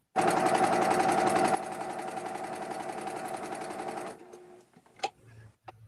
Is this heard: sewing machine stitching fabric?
yes